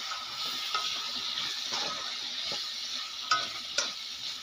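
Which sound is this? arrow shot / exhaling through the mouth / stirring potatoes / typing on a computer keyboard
stirring potatoes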